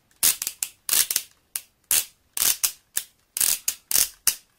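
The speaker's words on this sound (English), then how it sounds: "Those wonderful ratchet joints." Ratchet joints on a Transformers Universe Ultra Class Silverbolt toy figure click in repeated short bursts of sharp plastic ratcheting, loud and close, with brief pauses between each set of clicks.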